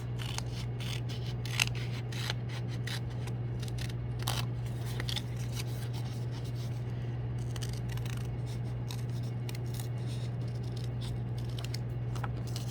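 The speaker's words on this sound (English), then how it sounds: "So my first cut, I'm actually going to be cutting this curved edge off." Scissors snipping along a curved edge of paper, a series of quick, close, irregular cutting snips over a steady low hum, with no talking.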